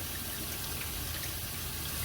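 Water running and splashing while lentils are rinsed in a bowl, a steady close wash of trickling liquid with no voices.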